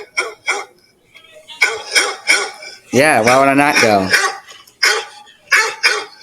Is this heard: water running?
no